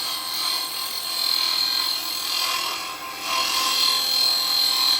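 A woodturning tool scrapes and cuts at a small wooden scoop spinning on a lathe, a close, steady rasping hiss that swells and eases in strokes with no talk.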